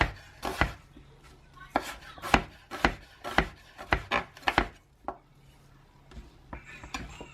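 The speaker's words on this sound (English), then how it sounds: "So I'm gonna chop the rest of these up." Knife chopping onions on a board, a quick run of sharp, close chops in short bursts with brief pauses between them and no talking.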